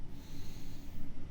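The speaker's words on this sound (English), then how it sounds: "And we continue to breathe." Slow, deep breathing during a guided meditation, a soft airy inhale and exhale close to the microphone, with no voice over it.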